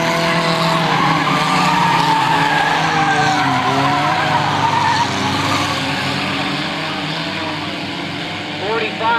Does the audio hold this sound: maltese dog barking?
no